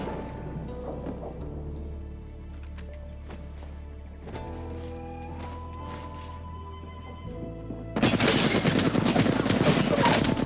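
Gunfire in the Apex Legends video game erupts as a loud, dense burst of rapid shots near the end. Before it come quieter game sounds, tones and movement noise.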